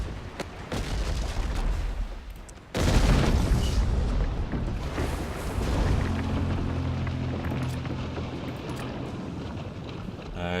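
A loud cannon-fire explosion hits a sailing ship in the naval combat game Abandon Ship, a sudden heavy boom breaking through wind-like rumble and then decaying into a long noisy tail.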